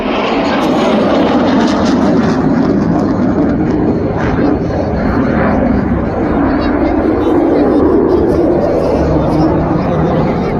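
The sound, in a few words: Sukhoi Su-22 fighter jet flying in Yemen army video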